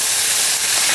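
Cooking wine splashed into a hot wok of lamb spine pieces stir-fried with ginger, giving a loud, steady steaming hiss and sizzle that fills the whole second without a break.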